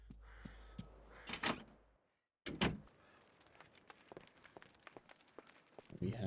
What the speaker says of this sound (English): Let's go through this door over here.